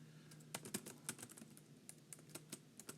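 Quick, uneven keystrokes clatter on a computer keyboard, a string of sharp clicks and taps heard up close, with no voices alongside.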